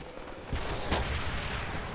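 Gunfire rattles in a Call of Duty shooter game, a dense sustained burst of loud shots over a busy noisy battlefield backdrop, close and continuous.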